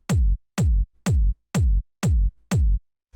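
Six big, hard-hitting kick drum hits tuned to G sharp for a house track, evenly spaced about half a second apart, each a loud deep boom with a sharp attack and quick decay, alone with no voices.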